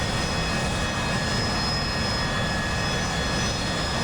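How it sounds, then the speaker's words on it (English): An AV-8B Harrier jet takes off from a runway in the DCS flight game, with a loud, constant engine roar and steady whine filling the whole stretch. "he's taken off from the runway for the console and PC gaming air show, and off he goes"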